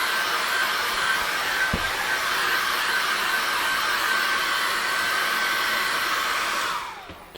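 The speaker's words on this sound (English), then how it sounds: "And a very quick hair dry now." A hair dryer blows steadily and loudly across an acrylic painting for about seven seconds, with one brief knock partway through, then winds down and cuts off at the end.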